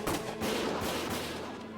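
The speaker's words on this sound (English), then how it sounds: "Gunfire!" Gunfire in the video game Valkyria Chronicles: a brief, dense burst of shots and rattling fire, fairly loud and crowding the whole short moment with no voices over it.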